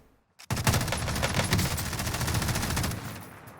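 Sustained bursts of MG34 machine gun fire in the Warzone video game, loud and close, with rapid rounds running together for about three seconds after a brief quiet start.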